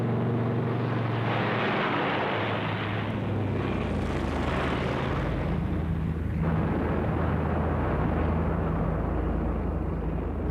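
Heavy WWII bomber formation over Dresden on a February 1945 night raid, a dense continuous roar of many propeller engines mixed with rumbling bomb blasts, loud and unbroken throughout with no voices.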